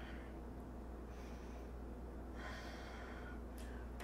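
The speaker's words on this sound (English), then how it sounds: "A few more breaths here." Deep, audible breaths in and out through the nose during a yoga flow session, slow airy waves with a couple of snort-like inhales over a steady low background hum.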